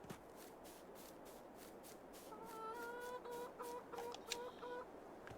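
Chickens cluck in a coop on a Farming Simulator 22 farm, a soft background murmur that rises into repeated, faint clucking calls over the second half.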